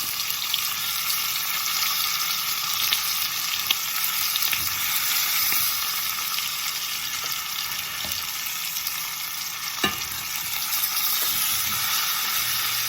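Pork chops sizzle in a pan just after being flipped, a steady broadband frying hiss running close and continuous, with a few faint clicks and a brief sharper crackle partway through.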